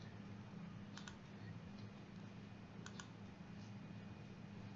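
Two short, quiet mouse clicks in a computer settings window, about two seconds apart, set against a steady low background hum with no voices.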